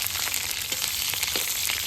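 Onion fries in a pan with a steady, close hiss and sizzle, dotted with small pops and crackles, and no voices over it.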